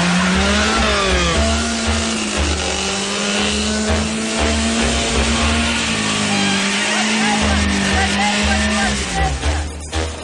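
A car engine starts and revs with rising and falling pitch as the vehicle pulls away, loud and close, with tire noise beneath and some speech over it.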